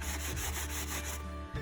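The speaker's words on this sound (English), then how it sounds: "This is a fine sanding block, and I'm just going to go ahead and rub on some of the edges" A fine sanding block rubs along wooden edges to give a lightly distressed finish, producing a steady, close, continuous scraping that pauses briefly near the end.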